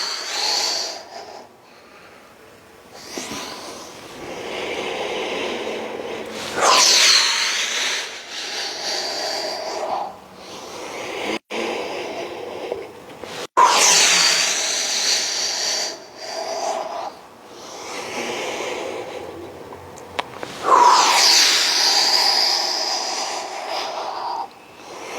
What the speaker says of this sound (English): Inhaling, exhaling.